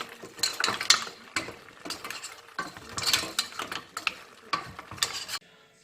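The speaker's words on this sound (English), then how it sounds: "We just have to mix them a little bit so that the garlic is everywhere and the white wine goes inside as well." A spoon scrapes and clatters through cooked greenshell mussels in a pan with garlic and white wine, shells clicking and rattling in bursts of stirring, close and loud with brief pauses, then quiet at the end.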